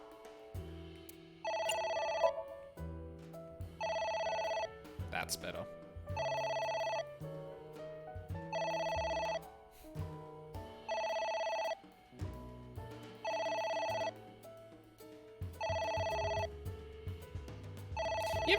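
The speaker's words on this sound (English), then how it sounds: "You ever stare at a phone and wonder if it's actually getting louder every time it rings?" A phone rings repeatedly in the video game AI: The Somnium Files, about eight evenly spaced electronic bell bursts over a low musical background, with a brief spoken remark in between.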